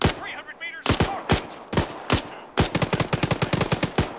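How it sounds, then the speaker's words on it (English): Arma 3 video game gunfire: scattered single shots give way to a rapid rattling burst of automatic fire, loud and close, with no talking over it. "Sounds like we've still got a lot of fire going down range"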